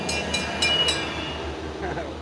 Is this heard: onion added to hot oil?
no